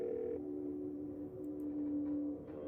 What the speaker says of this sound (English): You dial Stella.